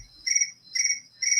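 Cricket chirping played from a phone ringtone, three evenly spaced bright trilling bursts about half a second apart, clear and isolated against a quiet room.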